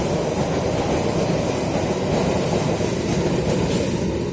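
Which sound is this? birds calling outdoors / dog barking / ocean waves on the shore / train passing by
train passing by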